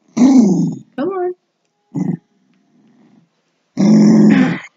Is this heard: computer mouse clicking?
no